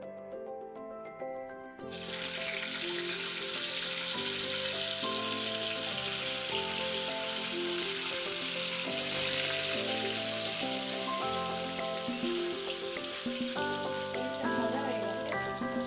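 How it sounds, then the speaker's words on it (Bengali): Loud, steady sizzling of paneer frying in hot refined oil in a kadai, starting abruptly and continuing without a break. "এবার আমি পনিরটা ভেজে নেব, রিফাইন অয়েল দিয়ে ভেজে নিচ্ছি।"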